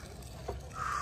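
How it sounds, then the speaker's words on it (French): A single short crow caw rings out on a golf course, fairly near and brief, over faint outdoor background noise. "Oiseau"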